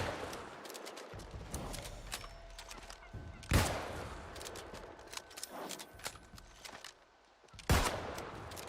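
Gunfire in the game New World as a player shoots an enemy from above: scattered sharp shots with two heavy cracks standing out over a busy game soundscape, moderately loud, with no voices.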